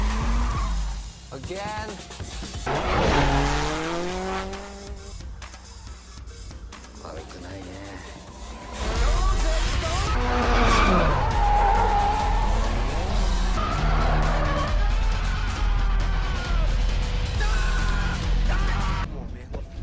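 A car drifting in the street-racing film Tokyo Drift, with tires squealing in long skids and an engine revving loudly under film dialogue, shouts and music.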